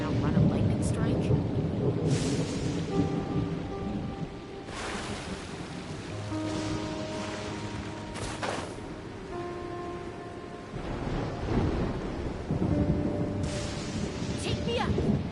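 A thunderstorm in the Genshin Impact video game brings steady loud rain with heavy rumbling thunder swells, while game music tones sound and a voice speaks over it.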